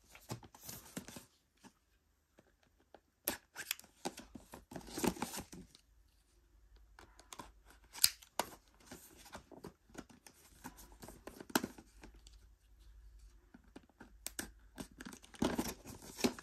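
Packaging for a pink toy kitchen set torn and crinkled open during unboxing, a close, irregular run of ripping and rustling bursts separated by short quiet gaps.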